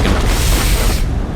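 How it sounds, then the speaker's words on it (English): A deep, loud explosion booms from an ARK Primal Chaos guardian battle, a heavy low rumble holding for about a second before the bright crackling wash cuts off. "let's hope that our big old explosions here can help us"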